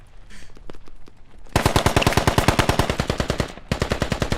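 Pistol fire in the tactical shooter game Squad: a few scattered single shots, then a loud, rapid string of close shots firing steadily for about two seconds, a brief pause, and more shots.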